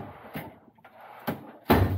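Drawers of a tool chest in a mechanic's garage sliding open and shut, three sharp knocking thuds spaced apart, the last one loudest, with no voices.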